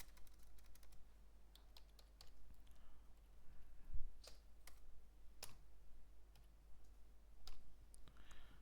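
Light, quiet keystrokes on a computer keyboard as Python code is typed, irregular clicks in short bursts with a few sharper taps, heard close against a low steady hum.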